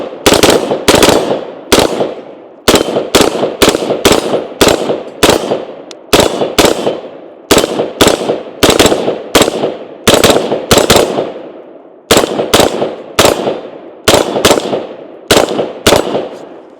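A Sig M400 SDI Series X rifle fires outdoors in Kentucky, with very loud, sharp shots in quick strings of two to four followed by brief pauses, each crack trailing a short echo, and no talk.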